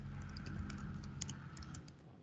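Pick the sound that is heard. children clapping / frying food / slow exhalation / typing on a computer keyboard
typing on a computer keyboard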